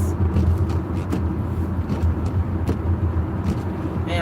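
A car drives at about 44 mph around a curve on a wet road at night, with oncoming traffic. A steady, close rumble of tires on wet pavement and engine noise continues throughout, with faint splashy hiss.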